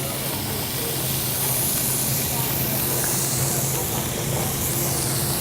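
Pork medallions searing in a hot pan, a loud, steady sizzling hiss continuing without a break, with voices heard over it.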